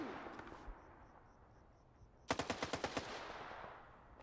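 Enemy gunfire in the shooter game S.T.A.L.K.E.R. 2 rattles out in a quick burst of about seven sharp automatic shots, moderately distant, following a stretch of quiet ambience.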